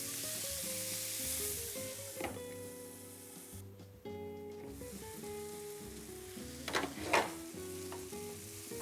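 Spiced mango shrimp fry in a covered pan with a steady sizzle under faint background music, with a few brief clatters near the end.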